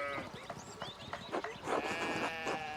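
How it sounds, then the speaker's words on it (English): Sheep bleat repeatedly in the medieval village of the video game Pentiment, several wavering calls overlapping at close range, rising into a louder, sustained bleat near the end with no talk. "we need to get these sheep under control"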